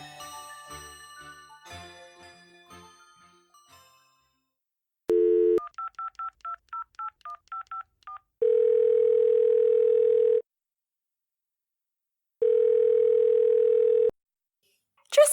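A telephone line opens with a short burst of dial tone, followed by a quick run of about ten clipped dialing beeps, then two long, loud ringing tones separated by silence, after fading musical notes at the start.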